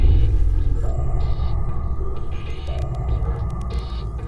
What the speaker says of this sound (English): With no vocal cords, a beluga emits warning sounds from its blowhole